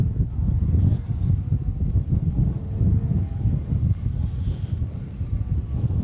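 Wind blowing across a spectator area at an asphalt rally special stage, a loud, steady low rumbling buffet on the microphone with gusty fluctuations throughout and no clear voices.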